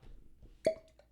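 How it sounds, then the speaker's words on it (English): A cork pops out of a whiskey bottle in a single sharp, close pop that rings briefly and fades over a quiet room. "Cork pop."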